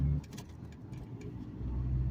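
A stick-shift car idles and creeps backward in reverse, a low steady engine hum that swells slightly toward the end, heard close with no talking.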